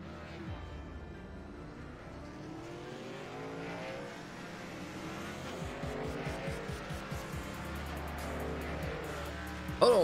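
Race cars roar around Daytona in a sim racing video game, with engines droning and rising steadily as the pack accelerates, growing louder toward the end.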